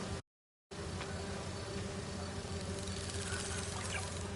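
Virtual bee wolves in the Spider-Man 2 video game buzz in a steady, dense insect drone, faint overall, after a brief gap of silence at the start.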